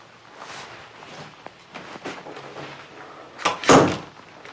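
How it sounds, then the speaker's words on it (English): A bedroom door is pulled shut on a child put to bed, a firm close and latch near the end after a few soft footsteps and rustles, fairly close, with no speech. "Then you're going to have to close the door for about 5 minutes."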